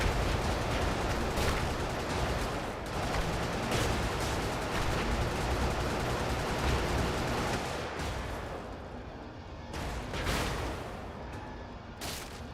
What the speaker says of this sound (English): Ah, stop shooting at me.